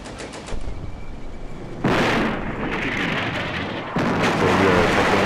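Gunfire in the WWII strategy game Combat Mission, heavy booming bursts that hit abruptly and swell, each new volley louder, rolling into sustained rumbling reports.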